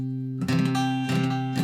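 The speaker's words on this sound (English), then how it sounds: "So if you play your chord and it sounds like this," A guitar chord is strummed three times, each ringing with a rough, buzzy edge from a string rattling against the frets, played close and clear with no talking.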